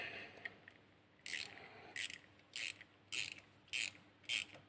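On a Peugeot 205, a hose clamp on a new coolant hose is tightened slowly, producing six short ratcheting bursts in a steady rhythm, close and crisp against a quiet background.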